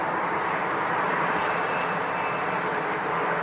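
Airliner taking off at Long Beach airport, a steady, loud broadband engine roar that holds constant throughout with no voices over it.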